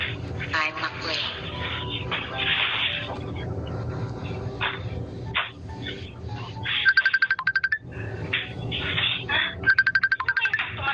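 Phone ringtone for an incoming call, sounding in two short trilled electronic bursts that cut through background drama music and dog-like yips, with voices speaking around it.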